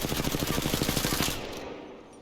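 Rapid automatic gunfire from a weapon in Apex Legends, a steady burst of evenly spaced shots for over a second that stops abruptly, leaving a fading tail, with no talking.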